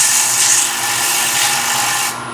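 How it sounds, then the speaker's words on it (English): The edge of a wooden platter on a lathe is being sanded, a steady loud abrasive rubbing hiss that holds evenly for a couple of seconds and then eases slightly. "I'm going to sand this edge slightly only to break these two corners."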